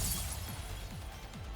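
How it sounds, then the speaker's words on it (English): A wall shattering in the game Goddess of Victory: Nikke, a dense continuous crumbling crash spread over the whole moment with repeated low impacts beneath, loud and alone. "The wall shatters."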